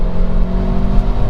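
Mercedes GLA 45 AMG with its M133 engine, a steady close-up engine drone with strong low harmonics and a slight rising rev, loud and alone with no talking.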